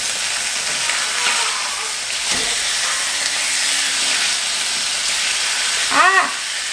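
Food fries in an open pan, a loud, close, continuous hissing sizzle that barely varies, with a brief squeaky chirp near the end.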